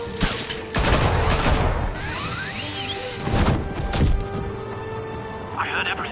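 Gunfire erupts in a Batman video game scene, bursts of shots and crashing impacts aimed at Batman, loud and close, mixed with shouting voices and mechanical clatter.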